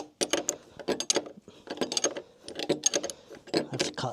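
A ratchet spanner tightening a threaded-rod fixing on a timber barn brace, close-up bursts of quick metallic clicks repeated in short strokes with brief pauses between them.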